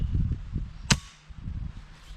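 A single sharp crack from an Umarex Fusion 2 air rifle firing, one short close report amid low background rumble and handling noise.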